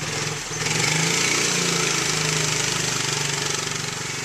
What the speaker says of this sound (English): My kid's practicing mowing down my plum trees.